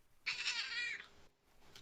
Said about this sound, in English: I noticed we have 2 cats joining our sessions this time, and both black.